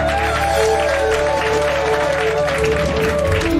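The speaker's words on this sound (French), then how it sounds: "Est-ce que tu peux encore acclamer Jésus?" A church congregation applauding and cheering for Jesus during a sermon by a French-speaking prophetess, dense sustained clapping and crowd noise with voices mixed in.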